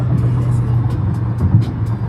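A car drives on the road near Fort Lauderdale, heading toward Miami, with a loud, steady low engine drone and road rumble heard from inside, and soft murmuring voices beneath it.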